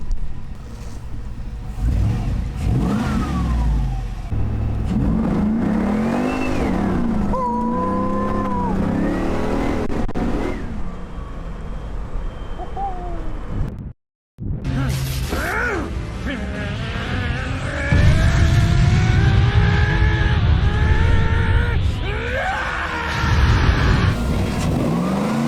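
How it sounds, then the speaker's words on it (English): A Chevy OBS truck with a swapped LS3 V8 revs and accelerates hard on a test drive, the engine note climbing through several gears with a brief cut midway, loud and close from inside the cab. "We're gonna go for a test drive on the LS3 truck"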